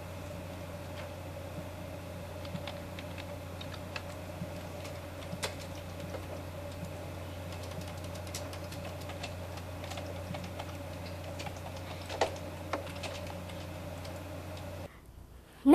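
Steady typing on a computer keyboard, entering a last name into a search field, with soft irregular key clicks over a constant low electrical hum, then a sudden cutoff near the end.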